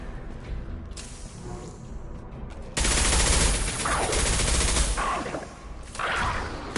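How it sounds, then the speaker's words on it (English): Sustained bursts of automatic gunfire in Mass Effect 2 Legendary Edition combat on PS5, loud dense rattling volleys that intensify midway and keep going with brief swells. "Stop firing at me, idiot!"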